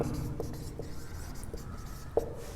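Chalk or marker scratches across a classroom board in short strokes with brief taps, a steady dry rubbing close by and no speech over it.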